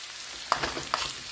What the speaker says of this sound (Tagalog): Kasi gigisa ko yung bawang.